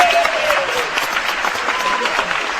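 An Irish crowd in the Ivanhoe Temple bursts into loud, sustained applause and cheering on cue, a dense, steady roar of clapping that fills the hall throughout.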